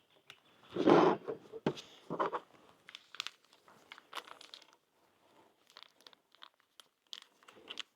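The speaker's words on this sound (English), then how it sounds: "we'll just open up the raspberry jam" Raspberry jam packet from an Australian combat ration pack being opened, a sharp close crinkle and tear followed by scattered plastic rustles, clicks and soft handling noises in a quiet room.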